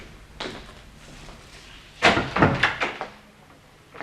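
A small wooden broom cupboard door on a stairway landing opens with a short creak and a couple of close thuds and rattles, then goes quiet; a fainter knock comes earlier.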